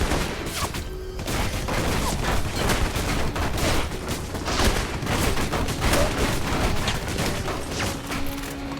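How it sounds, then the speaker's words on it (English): Rapid, dense gunfire pours steadily at a tank in the Alpha Protocol video game, loud bursts and booms overlapping without pause and no voices over them. "Are they shooting the tank?"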